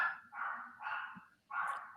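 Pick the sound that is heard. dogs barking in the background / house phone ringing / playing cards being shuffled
dogs barking in the background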